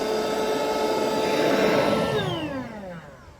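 Bestway ALWAYZAIRE queen air mattress's built-in electric pump running steadily as it sucks air out, a loud whirring drone that holds and then winds down in pitch near the end.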